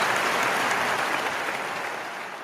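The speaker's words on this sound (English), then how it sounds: "I gotta give Pam Bondi some applause." Applause from a crowd, a steady dense wash of clapping that stays loud throughout and fades slightly toward the end, with no talk over it.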